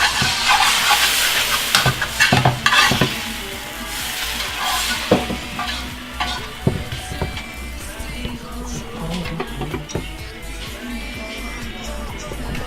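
Banh xeo crepe batter sizzles in a pan over medium heat, a steady frying hiss punctuated by several clanks and scrapes of a utensil against the pan, close and fairly loud.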